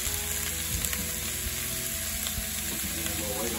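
Vegetables fry in butter in a skillet with a steady, close sizzle and a few faint clicks of stirring, no talking.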